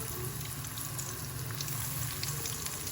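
Potato kebabs (aloo cutlets) frying in very hot oil, a steady close dense sizzle with crackling bubbles that stays even throughout, with no talking.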